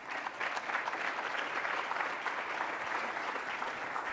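Steady, dense applause from a conference audience welcoming Cainiao CEO Lin Wan onto the stage, sustained at an even level for a few seconds with no talk over it.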